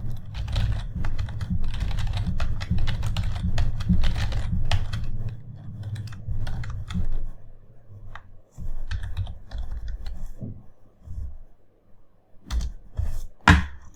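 A computer keyboard rattles with steady clicking while entries are typed into an Excel spreadsheet, starting as a dense run of keystrokes, then thinning into scattered individual taps, heard close up without speech.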